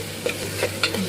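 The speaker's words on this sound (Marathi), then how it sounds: "अद्रक, लसूण आणि मिरची घेतली आहे, बारीक कुटून घ्यायची आणि टाकून घ्यायची ह्याच्यामध्ये। तेलावरती थोडी परतवून घ्यायची।" Ginger, garlic and chili sizzling and being stirred in hot oil in a pan, a steady low frying hiss with a few brief scraping stir strokes, close and moderately loud with no talking.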